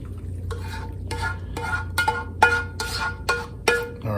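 Roast beef hash is stirred in a pan in a series of about eight distinct scraping strokes with a roughly regular rhythm, close and fairly loud over a low steady hum, without any voices.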